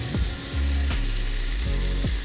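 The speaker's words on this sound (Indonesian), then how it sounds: "Ya, kita tuangkan airnya." Water is poured into sizzling sautéed spices in a frying pan for a tofu dish, a loud steady hiss and crackle of frying broken by a few clunking stirs or knocks against the pan.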